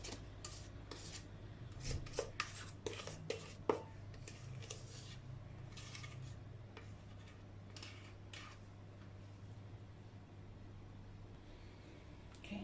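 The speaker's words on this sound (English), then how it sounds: "Now we're just leveling it out" Vanilla cake batter being levelled in a baking tin, with soft, faint scraping and rubbing strokes in an irregular rhythm over a steady low background hum.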